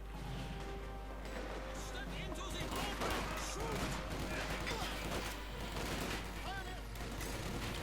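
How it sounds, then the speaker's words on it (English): Rifle gunfire and battle noise from a Company of Heroes 2 match, dense overlapping shots and explosions running continuously under voices. "There we got rifle firing up here."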